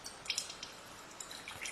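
Water displaced by a rock lowered into a container drips in a few faint, soft, irregular drops close by, with no talking.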